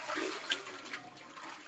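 Water pouring into a container, a brief gushing splash at close range that stays moderately quiet and ends within two seconds, with no talk.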